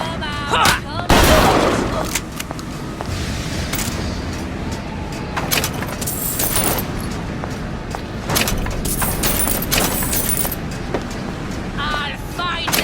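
Gunfire and chaotic combat from Bioshock Infinite: Burial at Sea, with sharp repeated shots and bursts scattered across a busy, loud mix, alongside shouting voices and clattering impacts.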